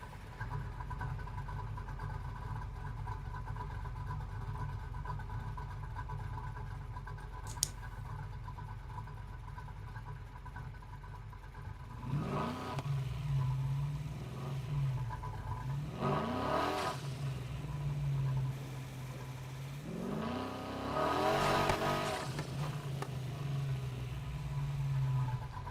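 Vehicle engine driving in the video game Halo 3: a steady low engine hum that rises into several revving surges, heard alone and fairly quiet.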